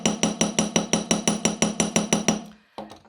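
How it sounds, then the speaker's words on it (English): A hammer taps on a wire fish fin for necklace wirework, about a dozen sharp, evenly spaced metallic strikes in a steady rhythm, close and clear, ending with a couple of lighter knocks. "just hammer the other fin, just moving it slightly away from the body and only hammer the fin and the curl"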